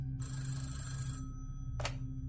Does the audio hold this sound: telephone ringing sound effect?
yes